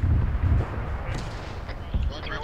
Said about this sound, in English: We're getting artillery dropped on us.